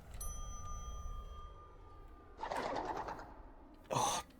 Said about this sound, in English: Oh, bloody birds.